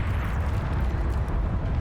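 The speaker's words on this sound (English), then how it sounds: "The nuke!" A nuke detonating in the real-time strategy game Beyond All Reason, a dense, sustained roaring rumble that holds loud and steady throughout without any voices.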